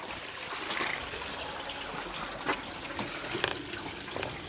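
Water rushing steadily through a prototype swash box, a dense, even hiss and churn with a few brief splashy surges, close and continuous with no talking.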